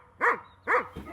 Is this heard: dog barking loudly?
yes